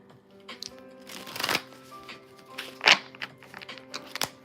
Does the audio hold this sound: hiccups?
no